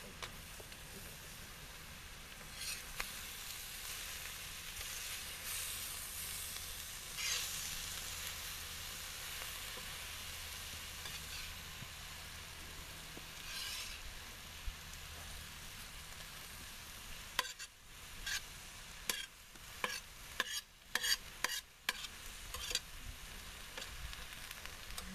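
Wild hog and deer stir fry sizzles steadily on a quarter-inch steel plate over a flame, a soft continuous hiss with a few sharp scraping clatters of a utensil near the end, no voices.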